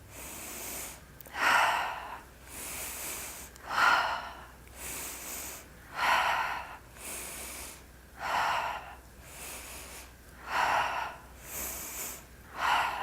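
Slow, steady alternate-nostril breathing, with soft nasal inhales and airy exhales in an even rhythm. About six breath cycles are heard close and alone, with no talking.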